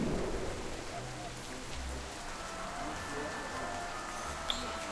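A storm conjured by atmospheric charms over a Quidditch pitch gives a steady, dense wash of rain with low rumbling thunder underneath, continuous and fairly loud throughout.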